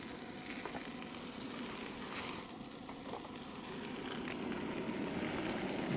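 Butter sizzles and crackles steadily in a hot pan at a remote Arizona campsite where lamb is cooking, a loud continuous frying hiss with a low rumble beneath, no voices.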